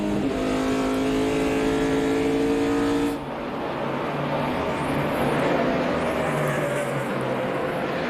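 NASCAR Car of Tomorrow stock cars from the 2009 season roar down a back straightaway, a loud continuous engine drone with a shifting whine that drops in pitch as the field passes, steady racing noise throughout.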